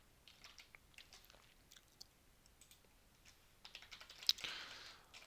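Soft, faint computer keyboard typing clicks away in scattered taps while code is being copied and pasted, ending in a quicker flurry of keystrokes.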